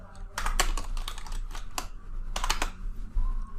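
Computer keyboard typing in quick bursts of crisp, close key clicks, with short pauses between runs of keystrokes.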